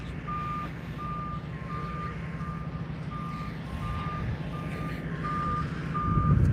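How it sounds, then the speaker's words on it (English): A truck arriving at SpaceX Starbase in Boca Chica, Texas sounds its reversing alarm, a steady series of evenly spaced beeps over a low engine rumble that swells toward the end. "there's a second truck coming down the road here"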